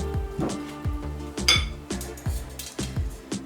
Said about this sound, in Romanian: Am să folosesc un tel.